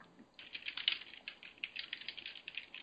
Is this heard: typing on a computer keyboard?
yes